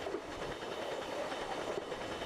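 Freight train of container flats and pocket wagons rolling steadily along the rails, a continuous close rumble with a faint clatter of wheels and no voices.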